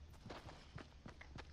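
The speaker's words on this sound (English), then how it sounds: "I hear footsteps." Quick run of light footsteps in Fortnite, about eight soft steps in a brisk, even rhythm, moderately close and fairly quiet against a low background hum.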